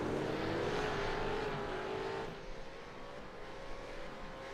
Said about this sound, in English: especially when we throw all the cars on the track like we have tonight